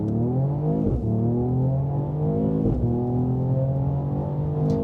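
A Mercedes-Benz E53 AMG in full sport mode accelerates hard, its engine rising in pitch through the gears with two distinct shifts, heard loud and steady from inside the cabin without talk.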